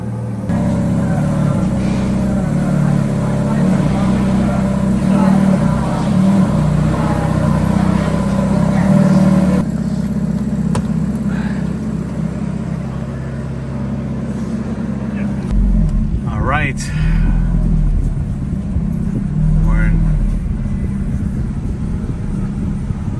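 Steady, loud engine drone that runs throughout and deepens into a heavier rumble about two-thirds of the way through as the throttle is opened, with people talking over it.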